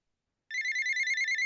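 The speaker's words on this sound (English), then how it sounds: "then my phone rings." A phone starts ringing after half a second of silence with a bright, warbling electronic ringtone that pulses rapidly and steadily, loud and close, until it cuts off abruptly.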